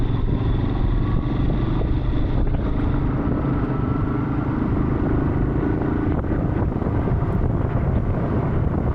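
A motorcycle rides along a rough, broken road through green countryside on the way to Raireshwar, its engine a steady drone buried under constant wind buffeting the microphone.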